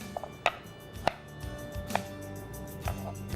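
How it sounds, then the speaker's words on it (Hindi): Raw, unboiled carrot is chopped into small pieces in a home kitchen. Several separate, fairly close knife strikes land on the board at an uneven pace, with faint background noise between them. "और इसको भी छोटा पीसेस में काट लें"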